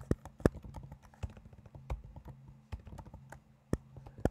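Code being typed on a computer keyboard while writing an Arduino blink program, irregular bursts of close clicky keystrokes with occasional heavier taps, no talk.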